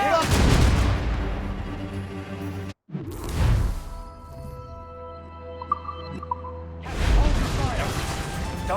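Ship cannon fire in Assassin's Creed Rogue, heavy booming volleys near the start, middle and end over ongoing sea battle noise, with shouted voices in between.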